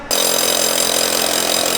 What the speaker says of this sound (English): And now that TJ's done drilling the hole